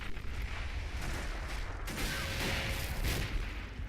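Nebelwerfer rocket artillery fires in the Men of War Assault Squad 2 game as a dull rumbling barrage of distant booms and whooshes over a noisy battle bed, moderately faint, with no speech.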